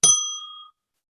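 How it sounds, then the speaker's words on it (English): A small hand bell is struck once, giving a bright, clear ring that fades out within well under a second, heard alone in a quiet room. "Let me get my bell, please. Ready? A little bell."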